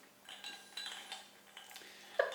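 A new ice bucket gives off faint, light clinks and taps of ice and metal, scattered over a couple of seconds. A sharper chink comes near the end in a quiet room.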